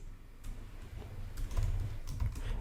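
Quick, light keystrokes on a computer keyboard as a database command is typed, soft and close with a low background hum.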